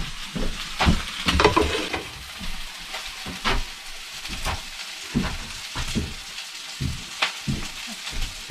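Boiled octopus sautés and fries in a pan with a steady crackling sizzle, broken by stirring scrapes and louder spattering bursts, close and with no talking.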